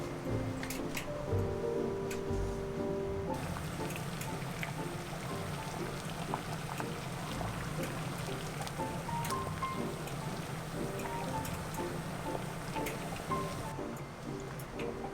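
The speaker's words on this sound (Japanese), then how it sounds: "次はインゲンを茹でます。" Green beans boil in a pot of salted water, a steady bubbling and crackling simmer heard close up that continues without talk, with a few faint clinks near the start.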